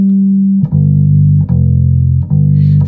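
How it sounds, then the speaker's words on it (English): A bass guitar natural harmonic at the 12th fret rings with a steady, loud sustain, briefly interrupted by three soft dips as the hand moves, then continuing to hold without decaying. "if you use the harmonics on the fret 12"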